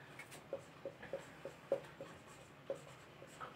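Ink handwriting on a board comes through as faint, close, irregular taps and short scratchy strokes, with a quiet pause between each small burst.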